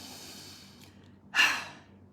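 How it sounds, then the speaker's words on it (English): A single deep breath drawn in, loud and close, rising sharply and then fading slowly, with nothing else in the background. "Take a deep breath."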